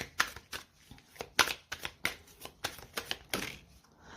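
Tarot cards being shuffled by hand in a series of quick riffling bursts, each crisp flutter of card edges followed by short pauses, close and moderately loud with no voices.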